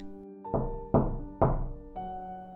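Four heavy knocks land on a wooden front door at a slow, deliberate pace inside a quiet country house, each thud ringing briefly before the next.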